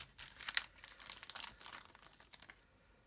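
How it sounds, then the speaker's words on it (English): A plastic bag of clear model kit parts for a B-52 bomber is sliced open and handled, giving bursts of close, crisp crinkling and rustling for about two and a half seconds before quieting. "I'll cut this open and then I'll put them in another"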